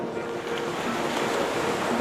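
Sea surf breaking on a beach where eels are fished with a rake, a steady loud wash of rushing water with wind buffeting the microphone, no voices.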